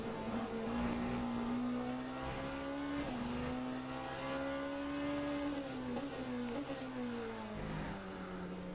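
Hypercar race car in a video game at Spa-Francorchamps, its engine screaming steadily near top speed, with high whining tones that rise and fall through gear changes and shift points, loud and continuous throughout.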